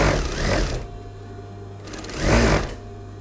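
A sewing machine sews a single hem line over zigzagged or overlocked fabric edges, two short bursts of fast, close needle rattle separated by a quiet pause.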